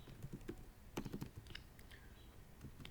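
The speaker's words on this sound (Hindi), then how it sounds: "इसके ऊपर हम कुछ भी रैंडम टाइप करते हैं" Random text typed on a computer keyboard for an Excel spreadsheet: a quiet, irregular run of close key clicks, with a denser burst in the middle and no voice over it.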